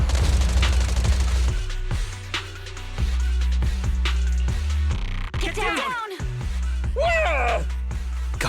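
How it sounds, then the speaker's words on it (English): Gunfire in Zenless Zone Zero rings out as suppressive marching fire, heavy booms and bursts over a loud game soundtrack, with a sharp blast and whooshing effects near the end. "Gunfire? This pattern. Suppressive marching fire."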